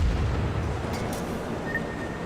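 Deep, booming naval gun salvos roll out in a warship battle game, heavy low rumble sustained across the moment with a couple of brief higher bursts above it.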